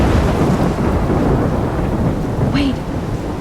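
Thunderstorm in the game Life is Strange: a steady, loud wash of rain and rolling thunder fills the scene throughout, with a brief rising tone near the end.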